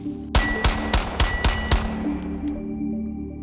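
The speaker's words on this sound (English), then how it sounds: "I'll just push out and put a couple rounds on target." Six rapid gunshots fired at a target in a quick, evenly spaced string, each sharp crack close and loud with ringing tails, followed by fading echo and faint metallic pings.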